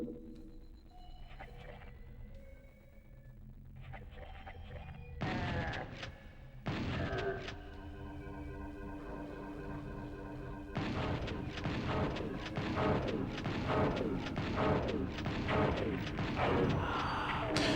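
A BFG weapon in a Doom video game fires in heavy booming blasts. Sharp bursts come first, then a long, loud stretch of layered electronic roar and rumble.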